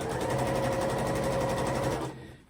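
A sewing machine runs at a steady, rapid stitching pace close by, then slows and stops near the end.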